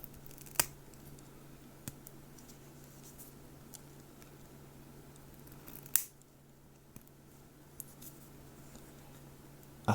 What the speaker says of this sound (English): cut these posts down that the old PCB was stuck to